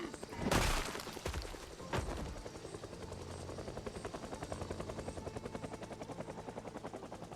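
Helicopter in the video game Project Zomboid, heard as a steady, rapid rotor chop continuing throughout, with a couple of loud sharp bangs near the start layered over it.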